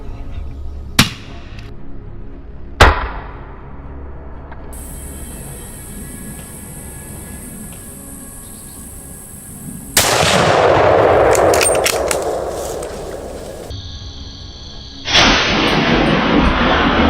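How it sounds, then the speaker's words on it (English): Several loud, sharp rifle gunshots at a wild boar on a California farm near a wild apple bush, spaced apart among quieter stretches, with a broad burst of noise and rustling afterward. "Boom, a clean pinpoint shot"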